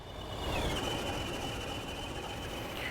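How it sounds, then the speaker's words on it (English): Steady rumble of a small animated model train circling on a Severn Valley Railway route in Train Simulator Classic, a continuous rolling drone with a faint high whine running throughout, no talk. "We've got the little animated train still running round."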